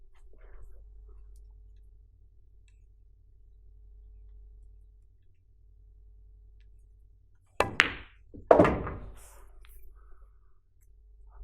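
In pool, a cue strikes the cue ball for a center stun shot with a little left-hand English, and a sharp click of ball hitting ball follows moments later, both crisp against a quiet room.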